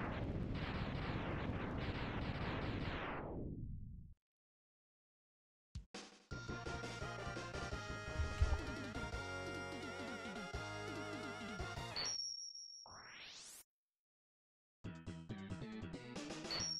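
The Shotgun Ice weapon in the video game Mega Man X fires in a demonstration, producing loud synthetic bursts and sweeping electronic effects in several separate blasts divided by short silent gaps.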